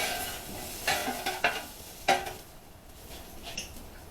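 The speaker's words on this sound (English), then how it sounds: "When they start getting a good sizzle, I know my grill is hot enough." Carne asada sizzles in plenty of oil on a hot Blackstone griddle: a steady bright hiss broken by several sharp spatula scrapes and clanks, close and fairly loud, with no voices.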